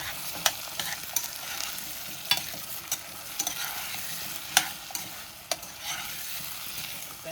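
Diced potatoes sauteing in a hot pan for a Sunday dinner, a continuous close sizzle with occasional crisp scrapes and clinks of stirring throughout, no voices.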